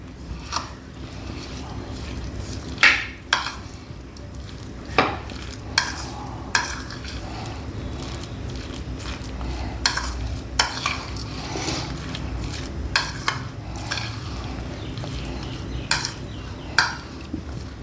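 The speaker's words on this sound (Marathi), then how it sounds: "साखर, मीठ आणि दही. सगळं छान मिक्स करून घेऊया." Cucumber, sugar, salt, crushed peanuts and yogurt being stirred together for raita in a bowl, with repeated soft scraping and clinking of a spoon at an uneven rhythm, close and moderately loud.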